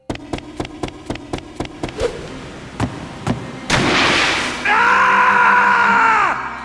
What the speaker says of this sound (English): put in the Sonic Unleashed Death Scream right there